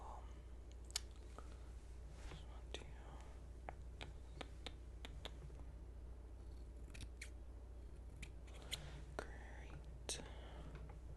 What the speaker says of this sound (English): And then point cutting.